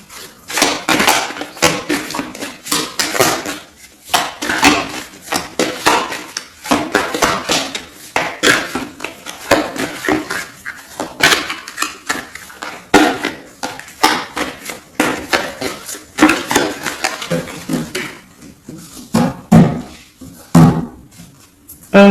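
A deck of tarot cards cut and handled for a reading, producing dense, close tapping, clattering and slapping sounds that repeat continuously with few pauses.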